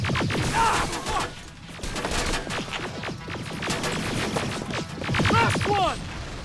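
Heavy gunfire in the Terminator Resistance video game, dense rapid shots and impacts crackling nonstop over a rumbling battle backdrop, with a voice briefly heard amid the fire.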